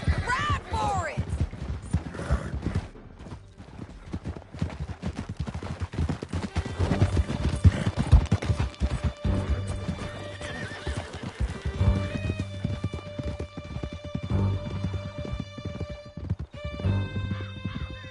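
A horse gallops in Red Dead Redemption II, steady hoofbeats pounding under a whinny, gunfire and shouted voices, with music and other game sounds layered throughout.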